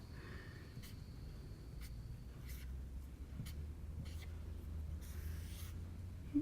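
Pen strokes of someone sketching glasses and then eyes on paper, a series of short faint scratching strokes repeating irregularly over a quiet room hum.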